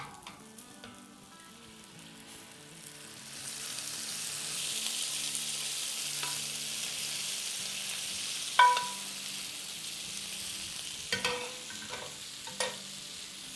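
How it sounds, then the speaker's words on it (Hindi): Mini gola kebabs sizzle with onions in a hot pan, a steady frying hiss that swells after a few seconds, with a few sharp clinks of a utensil against the pan near the end. "देखिए, सिजलिंग कबाब आपको बुला रही है।"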